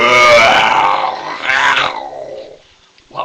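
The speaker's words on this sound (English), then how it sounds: "And then they heard a terrible roar." A deep, snarling roar from an unseen creature bursting out of a closet, loud and rough for about two seconds, swelling again briefly before fading, then a short growl at the end.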